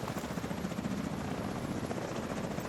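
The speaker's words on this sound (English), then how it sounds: "Oh no, more choppers." Helicopters in a video game: a steady, dense rotor thrum with a low chopping pulse that holds at constant loudness throughout, close and continuous, with no speech.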